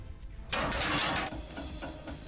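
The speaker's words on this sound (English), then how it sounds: "The 4-foot steel blades were powered by a 20-horsepower motor." Large exhaust fan with 4-foot steel blades driven by a 20-horsepower motor starting up, a brief burst of rushing mechanical noise after a quiet moment, then settling into a lower, fainter running hum.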